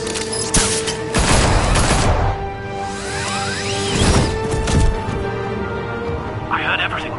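Bursts of gunfire and sharp cracks ring out in a Batman Telltale Series action scene, loud and repeated across the moment while voices shout over the shooting.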